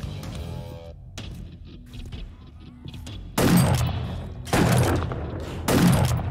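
Gunfire in the zombie survival game 7 Days to Die, Alpha 20 co-op, with three loud, noisy bursts of shots separated by quieter stretches of ambient game sound.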